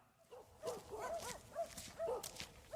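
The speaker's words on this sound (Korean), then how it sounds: "폭삭 주저앉은 농가로 다가서자 개 짖는 소리가 들립니다" Dogs guarding a collapsed, abandoned farmhouse in a village burned by wildfire, barking and yelping in a quick irregular series at a moderate distance.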